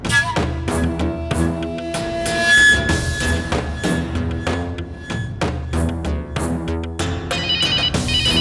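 An incoming-call phone ringtone plays a repeating melodic tune, loud and steady for several seconds with no talking over it.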